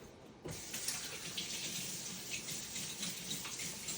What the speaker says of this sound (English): I'm going to just give my hands another rinse